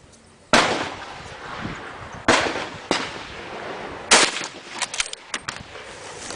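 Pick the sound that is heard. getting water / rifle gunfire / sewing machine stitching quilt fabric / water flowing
rifle gunfire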